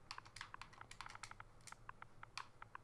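Rapid, irregular clicking of keys on a computer keyboard while entering an admin teleport command for ARK, close and fairly quiet over a low steady hum, with no talk.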